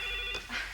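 A telephone rings in a busy office, where calls keep coming in; a short electronic ring burst, moderately close, with no talk over it.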